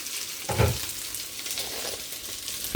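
Fried rice sizzles steadily in a pan on a home stove, a continuous close frying hiss with a couple of brief stirring scrapes and knocks.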